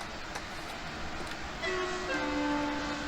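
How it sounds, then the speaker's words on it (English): Train horn in Train Sim World 2 on the Munich–Augsburg main line, a sustained tonal blast entering about halfway through and holding steady over the rumble of the moving train. "Truly dreadful sounding horn, isn't it?"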